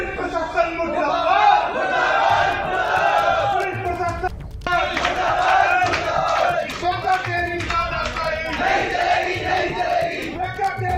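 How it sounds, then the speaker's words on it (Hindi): Hindu activist protesters in a crowd chant slogans against the police at a police station, loud and continuous, with shouting voices rising and falling in rhythmic bursts. "पुलिस प्रशासन मुर्दाबाद के नारे लगते रहे"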